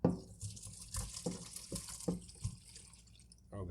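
Cooked slow-cooker jambalaya of chicken, sausage and shrimp is strained at a kitchen sink, with irregular splashes and trickles of liquid into a bowl, fairly quiet and close.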